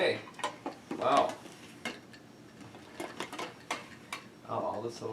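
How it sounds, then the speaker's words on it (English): Silverware and dishes clatter at a dinner table during a feast, with bright metallic clinks and scrapes in irregular bursts, close and fairly loud, while people talk now and then. "Oh, all this silverware I want."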